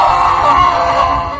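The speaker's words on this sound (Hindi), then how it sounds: "अंकित जोर से चीखने लगा।" A loud, sustained scream of pain in a Hindi horror story, a man's cry held for over a second with a wavering, strained tone and no talk over it.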